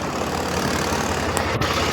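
Swaraj tractor engine idling steadily in a low, even diesel drone, close and continuous with no voices over it.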